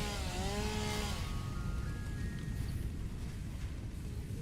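A chainsaw in the video game Satisfactory clears trees with a loud, sustained buzzing roar, with a brief revving whine near the start.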